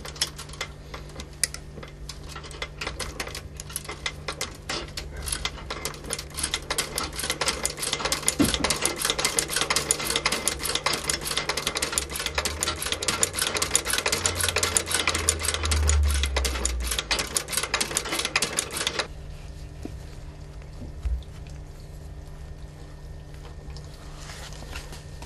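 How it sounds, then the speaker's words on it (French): A sewing machine stitches the back seam of a leather boot upper in a bootmaker's workshop, running in a fast, loud, steady mechanical rattle for about nineteen seconds before stopping, leaving low room hum and a soft knock. "Alors je vais procéder au jointage de la tige sur l'arrière."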